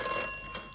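Telephone ringing in a BBC Radio 2 comedy sketch, a short steady electronic ring with bright tonal harmonics, heard briefly and alone at moderate level.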